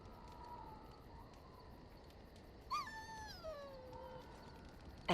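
A dog whines in the Dragon Age Origins video game, a single high falling whimper that slides downward over about a second and a half, heard over a steady low background hum with no talking.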